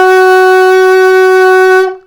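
An alto saxophone sustains a single middle E flat, also fingered as D sharp with the octave key added, as a loud, steady, reedy tone lasting about two seconds before cutting off cleanly.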